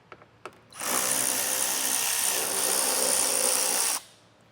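A power tool whirs steadily for about three seconds while backing 8mm screws out of a trim panel on a 2021 BMW 5 Series. A couple of faint clicks come before it, and the whir cuts off cleanly at the end.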